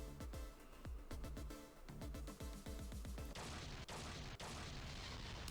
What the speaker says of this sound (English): I had an explosion somewhere